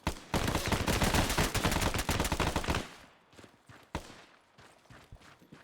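Rapid bursts of gunfire from a multiplayer shooter game, dense and loud for about three seconds, then a single sharp shot and scattered fainter pops and clicks.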